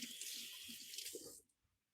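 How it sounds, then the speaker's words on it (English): Running water from a kitchen sink tap splashes steadily over hands for over a second, then cuts off abruptly, leaving near silence. "Here, wash my hands."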